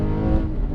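Porsche 911 Carrera S with a TechArt exhaust and 7-speed gearbox gives a short, loud rev blip, a deep rumbling engine burst heard up close with no talking.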